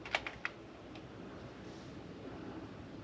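A few quick keystrokes tap on a computer keyboard near the start, faint and brief, followed by a steady low hiss of background noise with no voices.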